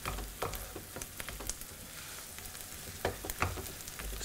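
Food frying in a pan while it browns and reduces in home cooking, a steady crackling sizzle with scattered sharper pops and spits, fairly close and moderately loud, with no voices.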